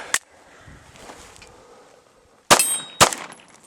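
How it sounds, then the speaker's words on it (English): A handgun slide failing to go into battery: three sharp metallic clangs, one faint at the start, then two loud ones close together near the end, with quiet between. "Failed to go into battery again."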